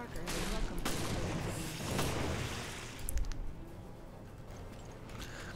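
An exploding enemy in Resident Evil Revelations bursts with a heavy boom amid rumbling in-game noise and scattered sharp cracks; a voice talks faintly underneath.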